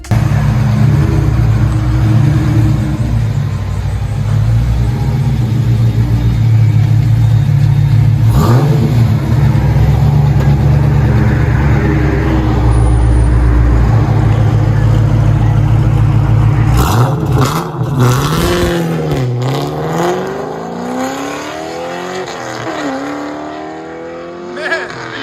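A 2004 Pontiac GTO with a 5.7-liter LS1 V8 in Need for Speed Underground 2, its engine droning loudly and steadily, then revving up and down through several swells with some tire noise near the end.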